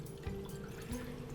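Water poured into a small pot in a kitchen, a soft, steady trickle heard faintly and alone for about a second and a half.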